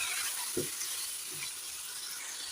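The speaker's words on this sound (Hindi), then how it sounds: "टमाटर डाल के अच्छी तरह से हमने मिक्स करना है और इसकी हल्की सी बुनाई करेंगे" Chopped tomatoes fry lightly with ginger and garlic in a pan for chicken karahi, giving a steady soft hiss with a couple of low stirring knocks, close and quiet with no talking.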